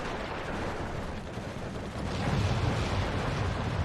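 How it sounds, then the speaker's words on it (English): Mortar fire in the WW2 real-time strategy game Steel Division 2, a dense rumbling barrage of booms and crackling impacts that swells louder partway through, with no talking. "And here comes the mortar fire."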